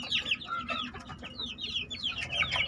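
Young growing rooster chicks of the BK breed chirp and cluck continuously in a flock, a busy chorus of overlapping high calls heard at close to moderate range over low background noise.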